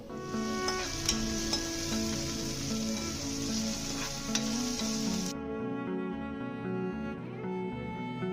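Onions, green chillies and coriander sizzle steadily in a pan for an Andhra-style prawn masala, a continuous close frying hiss with scraping stir strokes throughout, no talk.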